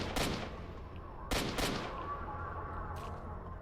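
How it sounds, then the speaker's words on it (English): Rifle fire in the S.T.A.L.K.E.R. video game, battling Monolith troops: a few sharp, loud shots with echoing tails, two close together, then a fainter shot near the end. "Don't know why I'm firing in this mode."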